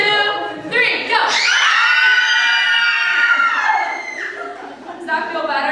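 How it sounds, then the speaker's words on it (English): A group of children screaming loudly together on a count of three, a dense, sustained chorus of high shrieks lasting a few seconds, with talk and a little laughter around it. "you guys need to help me scream on the top of your lungs on the count of 3"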